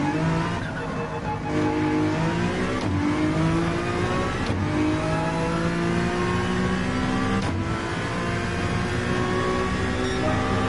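A racing car in Gran Turismo 7 engine braking and revving, its engine note sweeping down and up in pitch through several gear changes, steady and close, with brief sharp clicks between shifts.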